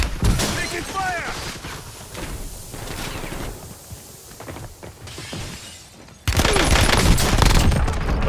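Loud, dense gunfire and shattering impacts in the video game Warzone, with bursts of shots throughout and a sudden louder volley near the end, while a voice speaks over the battle.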